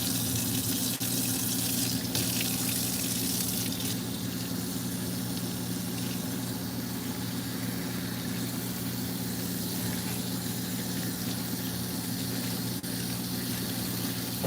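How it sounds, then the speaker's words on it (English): Water runs steadily and close from a tap as shampoo is rinsed out of type 4C hair with lukewarm water, a continuous hissing flow with a low droning hum underneath and no voices. "And now I'm going to rinse all this shampoo out."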